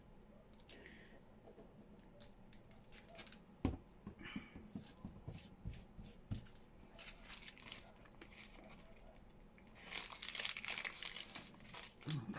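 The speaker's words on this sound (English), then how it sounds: "And then I can cut that side off." Paper CD envelope being cut and handled up close, a run of crisp snips, crinkles and rustles with bursts of sharper crackling near the end, quiet and with no voices.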